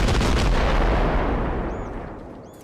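Heavy gunfire in the video game Arma Reforger, a loud booming, rumbling blast that decays slowly into echoing reverb with a faint distant shot near the end.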